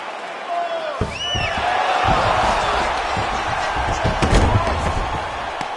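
Ground-and-pound punches from Colby Covington landing on Jorge Masvidal in closed guard in a UFC video game, a string of dull thuds and slaps over steady crowd noise, with commentary talking throughout.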